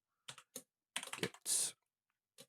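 Close-up typing on a computer keyboard: a few isolated key clicks, then a fast cluster of strokes and a broader clack like a space bar or enter key, followed by quiet and one last tap.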